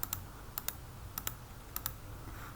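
Sharp, crisp clicks come in close pairs, about four double-clicks spaced evenly, close and distinct over a quiet background, as a mouse presses an unenroll button on an eLearning platform.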